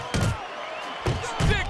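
Right-hand punches land to the head in the boxing video game Fight Night Champion: three quick, solid thuds, the last two close together, over crowd ambience and talk.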